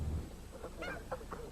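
Several short nasal goose honks come in quick, uneven succession over a low steady background, moderately close and clear.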